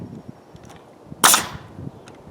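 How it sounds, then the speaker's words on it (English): Nail gun firing a single sharp bang into wooden shed wall framing, close and loud, with quiet background before and after. "Okay, let's just fire in some nails there."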